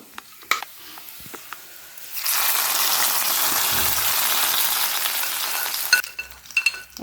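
Prawn curry, Kerala-style chemmeen curry, hits hot oil in a pan and breaks into a loud, steady sizzle that runs for several seconds after a few light clinks, then cuts off to quieter clatter.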